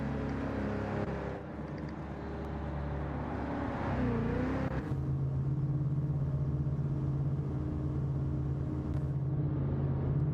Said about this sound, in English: away goes the BCR Mustang, and shortly behind, the Hex 911